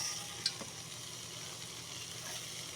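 Seafood sautéing in butter in a pan, a steady, soft sizzle and crackle held throughout, with a single brief clink near the start and no voices.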